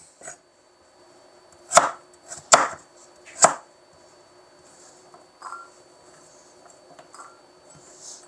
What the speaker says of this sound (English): I'm just going to slice the vegetables.